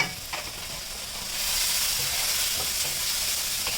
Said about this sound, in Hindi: अब प्याज को थोड़ा सा हम भूनेंगे